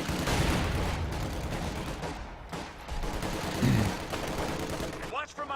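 A .50 cal machine gun fires in Company of Heroes 2, a continuous rattling stream of gunfire layered with battle noise and explosions, with a voice talking over it.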